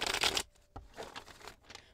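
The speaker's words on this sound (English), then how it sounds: "I'm going to go ahead and shuffle the deck." A tarot deck being shuffled by hand, with a burst of riffling card flutter, then softer intermittent slides and taps of cards, fairly close and without talk.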